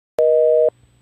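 A hotel room telephone gives a single steady busy-signal beep, about half a second long, clean and close, followed by faint line hiss.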